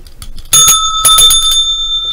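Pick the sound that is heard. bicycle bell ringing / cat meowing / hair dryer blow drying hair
bicycle bell ringing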